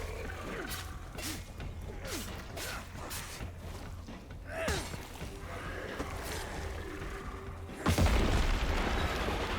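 A fuel bomb detonates in the zombie-survival game State of Decay 2, a sudden loud boom with a broadband burst near the end, following a busy stretch of game noise and scattered impacts.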